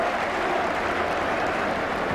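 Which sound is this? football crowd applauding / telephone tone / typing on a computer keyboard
football crowd applauding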